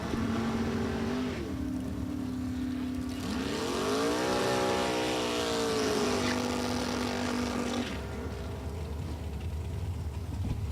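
Babalu Racing 565-cubic-inch dragster at National Trail Raceway, a steady loud engine drone that rises in pitch through a run and falls back, continuous with crowd and track ambience, no talk.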